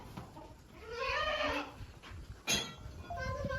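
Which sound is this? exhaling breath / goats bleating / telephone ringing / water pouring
goats bleating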